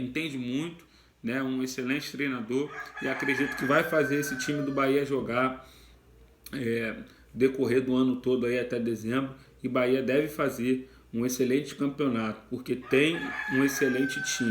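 A rooster crows in the background, faint and partly masked by someone talking continuously in Portuguese; two drawn-out calls rise above the speech.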